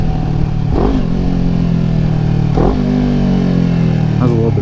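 A motorcycle engine hums at steady speed while the rider downshifts, with two or three quick throttle blips of the wrist rising and falling in pitch, close up beneath continuous talking.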